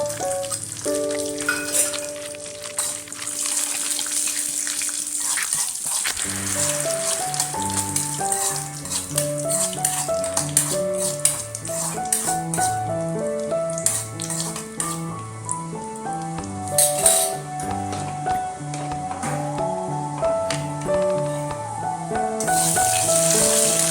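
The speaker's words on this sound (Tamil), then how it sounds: "திராட்சை முந்திரி போட்டு வறுத்து எடுத்துக்கலாங்க" Raisins and cashews frying in hot ghee give a steady, close sizzle with a crackly, rain-like patter, partly masked by background music with a plucked melody.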